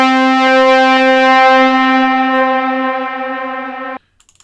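A single sustained C4 note from a MIDI-triggered synthesizer, a bright buzzy tone rich in harmonics that holds steadily for about four seconds, then cuts off sharply, leaving near silence with a few faint clicks.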